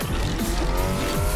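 A car racing and skidding in the Onrush arcade racing game, the engine roaring close and loud with sharp tire squeals sliding across it throughout.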